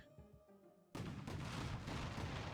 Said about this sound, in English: And some fireworks.